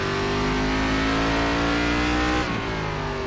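An ARCA Series stock car engine in iRacing drones loudly and continuously at high revs around Charlotte Roval, pitch climbing slowly, then dipping briefly with a shift before holding steady.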